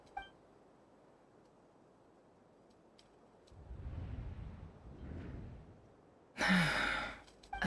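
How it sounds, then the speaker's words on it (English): A character in the video game Genshin Impact gasps, a soft breathy intake rising in the middle, followed by a louder sharp burst of game sound near the end. "I heard Yehuda gasp."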